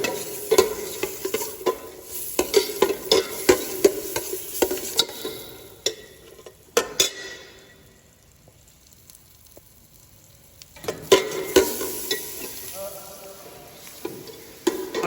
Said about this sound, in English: It is just sauteing for a few minutes, say 1 or 2 minutes.